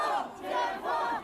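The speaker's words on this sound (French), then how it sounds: "une foule de manifestants répondant à des appels sur les réseaux sociaux est descendue dans les rues" Street protesters against COVID restrictions in China chant and shout in rhythmic collective waves, two surging cries rising and falling in quick succession, loud and close.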